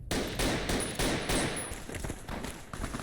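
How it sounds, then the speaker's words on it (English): Rapid bursts of automatic gunfire from enemies in Fallout New Vegas crackle loudly and continuously, dense overlapping shots with brief gaps between volleys. "Yeah, they're using some powerful firearms"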